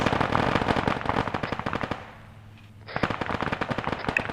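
Gunfire in the military video game Arma 3 comes as rapid, loud automatic bursts that pause briefly, then resume as dense, close fire.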